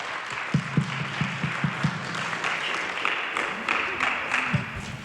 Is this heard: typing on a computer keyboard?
no